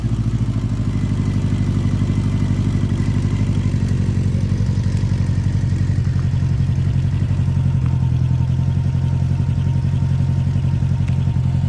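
A 1986 Honda GL1200 Interstate Goldwing motorcycle with fuel pump problems idling close by, a steady smooth low engine rumble with a fine rhythmic ticking, unbroken for the whole stretch.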